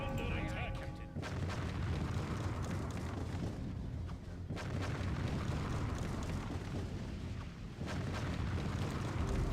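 Catapult-armed units attack galleys in the real-time strategy game Empire Earth. A dense stretch of repeated booming impacts and crashes forms a loud, continuous battle din, with heavy hits recurring every few seconds.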